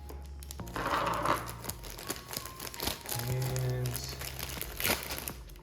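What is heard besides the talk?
plastic bag crinkling as it is cut open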